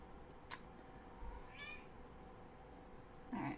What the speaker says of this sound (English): cat's whining again